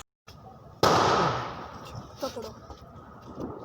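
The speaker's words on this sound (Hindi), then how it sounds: "हम जा रहे हैं पटाखे चलाने" Diwali firecrackers go off with one sudden loud bang, then a long hissing, crackling fizz that slowly fades, while people nearby talk and call out.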